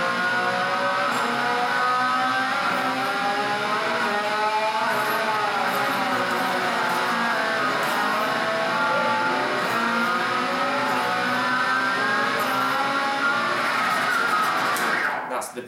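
An electric guitar with heavy gain imitates a motorbike as a metal whammy bar is held over the D and G strings, producing a continuous, loud revving drone with wavering pitch that swells toward a burnout at the end, with no voices.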